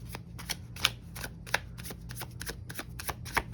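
Zodiac 108 oracle cards being handled and drawn make repeated crisp flicks and riffles, close and fairly sharp, in an irregular rhythm over a low steady background hum.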